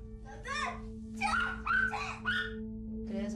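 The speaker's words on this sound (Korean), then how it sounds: "가족들끼리 장난칠 때마다 옆에서 덩달아 짖고 난리를 치며 참 별나게 굴었는데요" A pet dog yips and barks in excited, uneven bursts at home while family members play, with a steady electrical hum underneath and short whimpery calls between.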